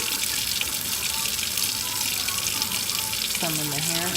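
Tap water runs steadily and fairly close while conditioner is rinsed out of hair during a hair-dyeing routine, a continuous wash with a brief lower gurgle near the end.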